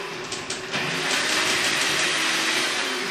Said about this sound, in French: Ne faites pas ça chez vous, il faut avoir un mixeur.